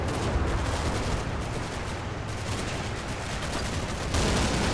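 Dense, continuous gunfire and explosions from a World War II tank battle in Normandy in the Combat Mission strategy game, a steady roar of shots and rumble with no clear gaps.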